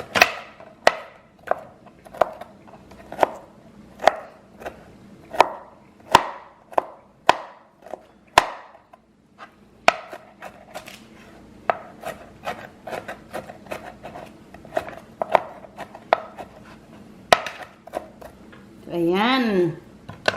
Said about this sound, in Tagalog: Then, ang broccoli. Chop din natin ng maliliit.